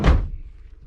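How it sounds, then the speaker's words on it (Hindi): A heavy door swings shut with a single deep, loud thunk up close, then a low rumbling decay fades out. No one speaks. "बाप रे, दरवाज़ा इतना भारी था।"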